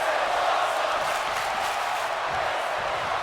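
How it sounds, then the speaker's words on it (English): A wrestling crowd keeps up a steady, loud roar, a dense wash of voices that sounds like a chant, with no single voice standing out. "Crowd chanting, this is awesome"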